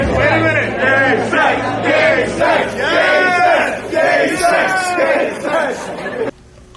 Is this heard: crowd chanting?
yes